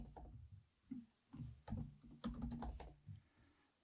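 Close, quiet typing on a computer keyboard, with irregular bursts of key clicks and short pauses between them.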